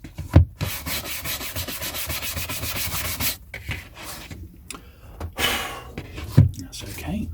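Dry, close rubbing and wiping across the cloth-covered board of a hardback book being cleaned, a steady scratchy texture broken by a few soft thumps, with quiet talk in the background.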